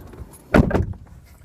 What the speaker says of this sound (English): You gotta open the door.